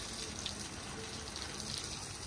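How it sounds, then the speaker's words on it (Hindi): Water running from a tap into plant pots, a steady soft rushing gush throughout, fairly faint and continuous, with no speech. "अभी इन डोलियों को पानी दो।"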